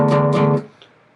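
Guitar power chord on the A string with the low E string accidentally left ringing: one strummed chord rings loud and close for half a second, then is choked off abruptly, with a faint fret rattle afterward.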